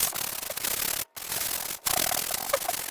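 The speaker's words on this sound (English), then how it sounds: "Next, I'm just going to sand very lightly over top of this to get rid of some of the glitter." Light sanding over a glittered paper gift box tag, with steady, close scratchy rubbing strokes broken by two brief pauses and no talk.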